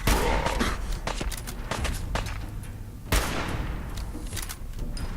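Sniper rifle gunshots in the video game Fallout 4, a few sharp, loud cracks spread across the clip, one heavy blast near the middle, with thuds and scattered game noise in between.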